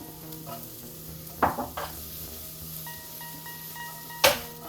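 Celery hitting hot oil in a skillet gives a soft, steady sizzle with a few sharp clatters and scrapes of stirring, close and fairly quiet, with no voices.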